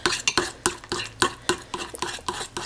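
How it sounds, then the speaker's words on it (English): Keto vegan batter being stirred by hand in a bowl, with a steady run of repeated scraping and clacking strokes close up, quick and rhythmic, with no voices. "just gonna mix this very well."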